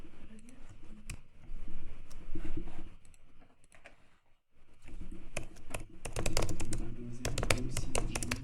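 Rapid typing on a computer keyboard to enter an address in a browser, a dense clatter of close key taps that pauses briefly midway, then resumes faster and louder.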